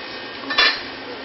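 A lid is set onto a pot of boiling parsnips with a brief metallic clink, close and clear, against a steady background hiss.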